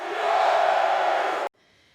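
Huge arena crowd of tens of thousands at a Roman gladiator fight, a loud sustained roar that cuts off abruptly after about a second and a half.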